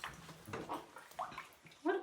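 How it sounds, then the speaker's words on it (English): A small animal named Mooney splashing its feet in a tub: several soft, scattered water splashes and sloshes at close range, with a brighter splash near the end and occasional light vocal sounds. "I'm just going to splash my feet a little bit"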